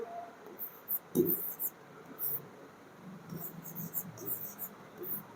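Pen scratching on paper while writing out determinant working by hand, soft intermittent strokes up close, with faint talk in the background.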